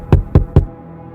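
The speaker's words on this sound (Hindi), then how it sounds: "रात के अंधेरे में किसी ने दरवाजे पर दस्तक दी" Three sharp knocks on a door at night, evenly spaced and close, then a quiet tail of room tone.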